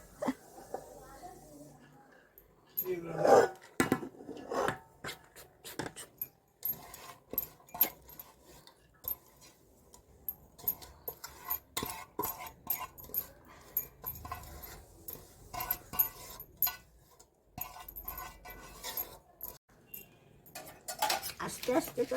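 A spoon scrapes and clinks against a pot while rice is spread and levelled over cooked mutton for biryani, giving intermittent metallic taps and scrapes under ongoing talk, with a dog whimpering in the background.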